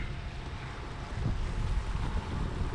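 Sea breeze buffets a sailboat, steady broadband wind rush with microphone wind noise and water wash against the hull, swelling a little louder partway through, no talk.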